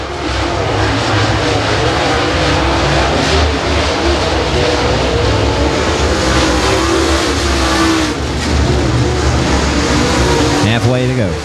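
Dirt late model race cars, including Terry Phillips' Black Diamond chassis number 75, roaring around Timberline Speedway, a loud, steady engine drone with rising revs, under an announcer's commentary.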